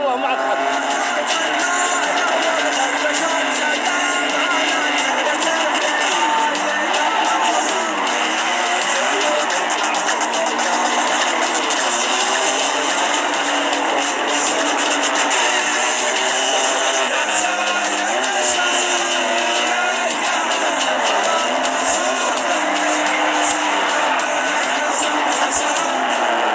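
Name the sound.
car drifting in GTA 5 video game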